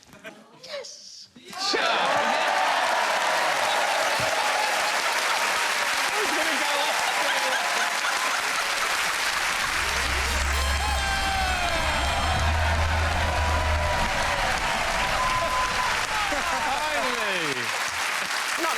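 Studio audience on a festive Christmas quiz show bursts into loud, sustained applause and cheering with whoops, rising sharply after a brief quiet start and holding dense and close for the rest of the stretch.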